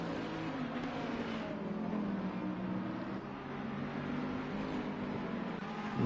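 A race car's engine drones steadily as it closes on a slower back marker at Brands Hatch in a racing video game, with a continuous mid-level hum and no voices.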